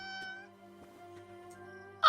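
A cat meows in the video game Infinity Nikki, soft and close, with a sustained tonal call over a quiet musical backdrop and a sharper, louder cry bursting out at the very end.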